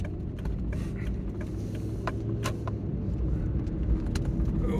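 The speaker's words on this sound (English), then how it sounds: "Heavy traffic." Heavy road traffic along old Route 66 between Bernalillo and downtown Albuquerque, a steady low rumble of cars passing nearby with occasional lighter rattles on top, no talking.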